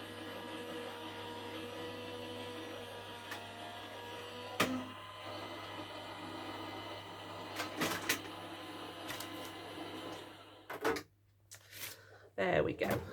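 A craft embossing machine cranks plates through with a continuous grinding, motor-like hum, close and steady, then breaks off into scattered clunks and handling noises.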